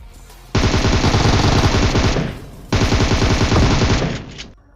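Rapid automatic gunfire in a PUBG firefight, two long sustained bursts of dense, loud shots separated by a short pause, with no talking.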